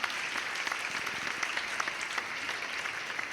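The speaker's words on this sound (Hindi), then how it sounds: "एक बार सम्मिलित रूप से मिलके बजाइए तालियां," An audience at a Hindi poetry gathering applauds together, a steady, dense clapping that fills the whole stretch at even strength without any voices over it.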